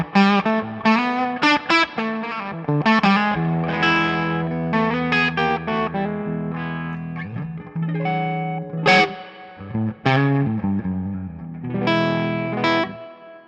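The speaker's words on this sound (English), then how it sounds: "We're going to go through the 2-Rock Bloomfield Drive, and I have it kind of on the edge of breakup." An electric guitar runs through a 2-Rock Bloomfield Drive pedal set at the edge of breakup and plays a lively phrase of notes and chords with slight crunch and some ambience, loud, steady and alone for more than ten seconds.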